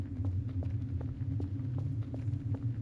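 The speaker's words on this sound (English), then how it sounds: "I keep hearing footsteps." Steady, evenly paced footsteps in a video game, a rhythmic thudding run of moderately loud steps over a low droning rumble, with no talking.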